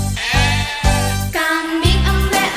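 Repeated goat bleats, four wavering nasal calls in quick succession, loud and close with no other sounds around them.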